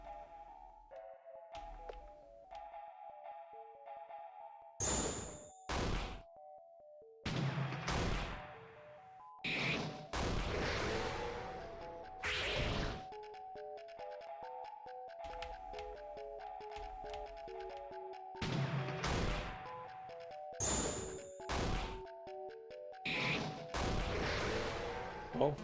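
Video game fight in which enemies are set on fire, repeated loud bursts, impacts and whooshes breaking over a steady tonal music bed, with no talking.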